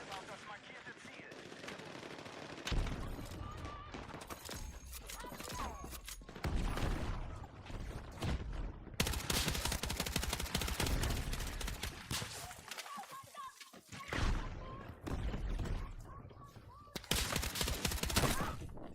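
Gunfire in the video game Battlefield 6 dominates: dense automatic bursts and single shots crack in rapid clusters, some loud and close, others farther off, with short lulls between volleys.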